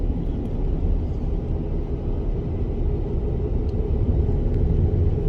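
A car cruises along a rural road with a steady, loud low rumble of engine and tire noise from inside the vehicle, and no one talks.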